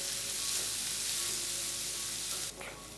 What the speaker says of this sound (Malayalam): ചെറിയുള്ളി നന്നായിട്ടൊന്ന് വഴറ്റിയെടുത്തേക്കണം.